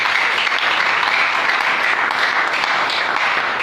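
A church congregation applauds continuously, dense steady clapping at even loudness throughout, with faint voices mixed in.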